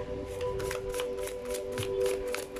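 A deck of tarot cards is shuffled in quick repeated riffles, about eight crisp papery bursts in steady rhythm, close up over a faint constant tonal hum.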